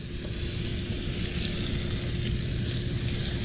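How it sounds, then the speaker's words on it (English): A hot skillet being cleaned of fond gives off a continuous dense hiss and sizzle, fairly loud and even throughout, with a low rumbling undertone and no voices. "Trying to clean up some of this fond out of the skillet."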